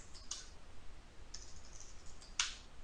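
Password typed on a computer keyboard, a few sparse sharp key clicks spaced about a second apart, quiet and close against near silence, no voices.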